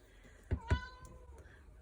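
A house cat gives a couple of short, close meows in a quiet home craft room, two brief cries in quick succession with a faint trailing tone afterward.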